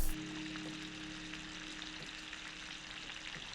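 Small pieces of freshly caught fish sizzle steadily in a hot pan, a dense continuous frying hiss with faint crackles, close and alone without voices.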